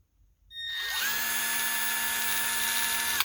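A Milwaukee M12 cordless hex screwdriver, model 2401-22, spins up after a short pause and settles into a steady, slow motor whine, close by and alone.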